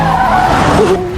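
Car tires skidding in a Transformers: Rise of the Beasts movie scene, a loud sustained squeal with a wavering pitch over engine rumble, close and dominant throughout.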